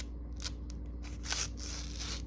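A GEC 72 Cody Scout pocket knife with a not-quite-sharp edge slicing through paper, giving a few short, close, dry scraping cuts over a steady low background hum.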